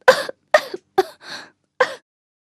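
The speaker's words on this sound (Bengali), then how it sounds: "স্নো হোয়াইট হঠাৎ জেগে উঠল আর জোরে জোরে কাশতে লাগলো" Snow White, the fairy-tale princess, coughs loudly: four sharp, close coughs in quick succession, a brief pause, then one final cough, with no other sound around them.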